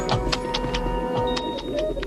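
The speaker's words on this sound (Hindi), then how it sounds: "सूरज चमक रहा है, पंछी चहक रहे हैं।" Pigeons or doves coo in a sunny cartoon outdoor scene, soft repeated bird calls spread over a steady low hum, with a few brief chirp-like bursts.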